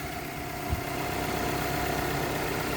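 A Holden Apollo, a badge-engineered Toyota Camry, idles steadily after its first start in six months, a constant low, even engine hum with a faint knock near the start and no voices.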